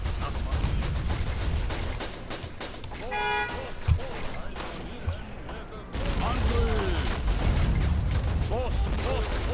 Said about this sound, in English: Our men are getting shot left and right